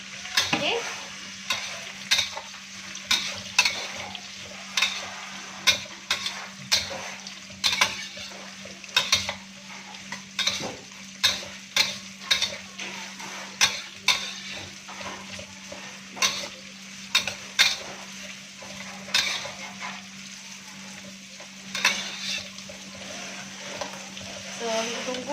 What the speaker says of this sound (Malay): Okay, so kita masukkan bawang yang kita dah hiris tadi.